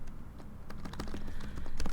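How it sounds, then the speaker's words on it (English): Rapid, uneven clicks of a computer keyboard being typed on up close, bursts of keystrokes with short pauses, growing a little denser toward the end. "I'm just typing there now."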